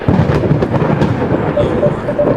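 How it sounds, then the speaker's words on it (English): Rumbling thunder in the cozy café game Coffee Talk, a steady loud roll with rain-like hiss lasting throughout, no voices. "Didn't have thunder last season."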